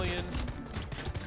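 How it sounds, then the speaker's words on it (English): Medical turrets firing at enemies in the game Brotato, a rapid, dense clatter of small shots and impacts mixed with other game sounds, loud and busy throughout. "the medical turrets or medical guns are just going ham on these enemies right now"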